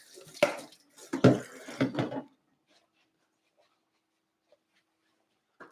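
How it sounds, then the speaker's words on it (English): Water runs from a kitchen tap over a colander in bursts for about two seconds, then stops, leaving near silence with a couple of faint clicks. "let's rinse our colander out"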